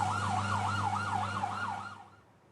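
A wailing siren-type alarm sounding after a missile strike in Holon, Israel, rising and falling steadily in a fast cycle over a low engine hum, then fading toward the end.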